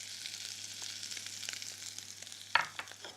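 Butter fries with anchovies, garlic and chilli over low heat, giving a steady soft sizzle with faint crackles and one brief clink of a utensil near the end.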